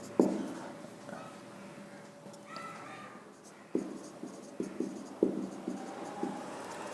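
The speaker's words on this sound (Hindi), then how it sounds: "इधर लिख देता हूँ" A pen or marker scratches and taps on a board or page during a lesson, with irregular strokes and sharp clicks, close and moderately loud.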